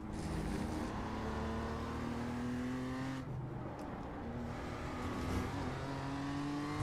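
A BMW M2 race car engine drones steadily at Oulton Park in the racing sim iRacing, loud and continuous, its pitch holding and shifting through gear changes with a brief dip midway and no talking.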